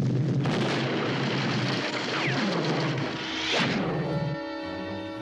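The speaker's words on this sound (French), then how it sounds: "Ça va bientôt exploser!" A loud, rumbling cartoon explosion with crashing debris roars continuously in a French Smurfs episode, then trails off into a lighter whooshing tail.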